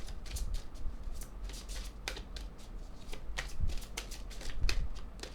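A deck of cards being shuffled repeatedly during a card-reading session, with quick riffling bursts recurring throughout, close and moderately quiet.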